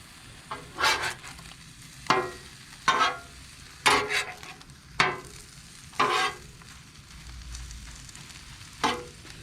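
Eggs cooking on a Blackstone griddle at a campsite, a soft background sizzle punctuated by about eight distinct scraping spatula strokes against the flat metal surface, near and moderately loud.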